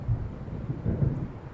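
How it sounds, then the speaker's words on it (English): Thunder of an approaching storm rumbling low and heavy in the game Alan Wake, a brief rolling growl with faint rain hiss beneath and no voices. "It seems there's a storm coming."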